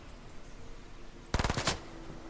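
A short burst of rapid automatic gunfire in the video game Fortnite, several quick shots in a row cracking out suddenly and loudly over quiet background ambience, ending abruptly.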